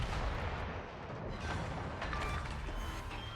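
A salvo of heavy naval guns in a World of Warships match, with a Richelieu battleship in play, producing a dense, continuous booming rumble. The roar is thick and sustained, with no clear separate shots.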